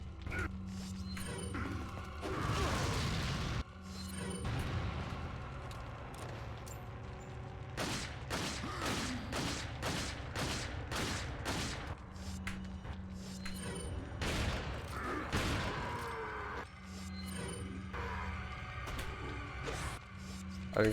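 Rapid bursts of gunfire in Resident Evil 4, sharp repeated shots in clusters over mechanical clanks and a steady game background hum, with a voice talking at times.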